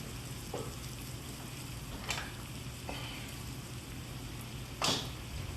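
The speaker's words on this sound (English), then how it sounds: "I'm gonna introduce some heavy cream into the mix" Heavy cream goes into a hot pan of creamy chicken pasta with sun-dried tomatoes, a soft, continuous sizzle near at hand broken by a few brief clinks and scrapes.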